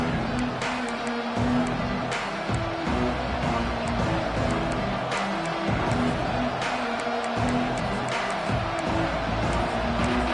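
A football stadium crowd cheering in a college football video game, a dense, steady roar of many voices sustained throughout with a few sharper bursts, with a low tonal hum running underneath.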